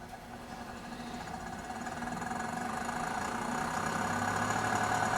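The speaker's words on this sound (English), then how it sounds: "The fan inside of there, it's now curing the meat." A food dehydrator fan drying beef jerky hums steadily with a low mechanical drone and tonal whine, slowly growing a little louder, with no voices.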